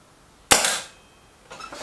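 A Kral NP02 or Reximex Regime air rifle fires one sharp, loud shot that decays quickly, followed a second later by a fainter burst of noise.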